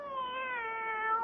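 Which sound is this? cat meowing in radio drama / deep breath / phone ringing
cat meowing in radio drama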